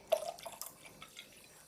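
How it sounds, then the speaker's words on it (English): Water trickles and drips into a bowl, a short faint splash followed by a few light drips, quiet and close with no talking. "I'll pour a little bit more water inside"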